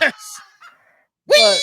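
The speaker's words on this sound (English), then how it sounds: "That's chickens and lambs." Played-back recording of chickens and lambs, with short bird-like squawks and a loud bleat-like call separated by a pause.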